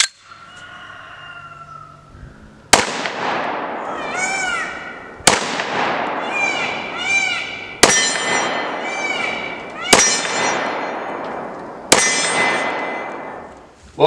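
A .44 Magnum Desert Eagle pistol fired outdoors on a shooting range, five loud, sharp shots spaced about two seconds apart, each followed by a ringing, echoing decay, with a brief stretch of quieter sound before the first shot.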